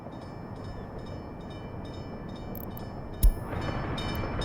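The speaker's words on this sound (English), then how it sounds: "we'll send the mechanical components train out" A freight train carrying mechanical components rolls along in the video game Workers & Resources: Soviet Republic, a steady mechanical rumble with a brief sharp clank near the end before the noise swells slightly.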